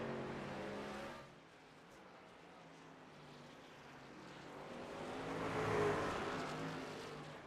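Race-truck engines in an iRacing race at the Charlotte Roval sound distant and fairly faint, dip after the first second, then swell as the trucks draw near around six seconds before fading slightly.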